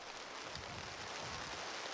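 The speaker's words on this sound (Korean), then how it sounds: "갑작스레 비바람이 몰아칩니다" Sudden wind and rain sweep over a turmeric field being planted, a dense, steady hiss of falling rain with gusty noise filling the whole stretch, no voices.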